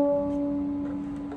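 A viola's open D string bowed and held as a single steady, sustained note, fairly clear and alone with no talking.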